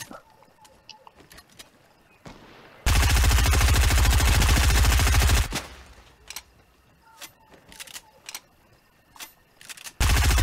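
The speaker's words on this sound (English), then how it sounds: "shoot the gun to show that you need ammo" A gun in the video game Fortnite fires a loud, sustained automatic burst lasting a few seconds, surrounded by quieter game effects and clicks, with another burst starting right at the end.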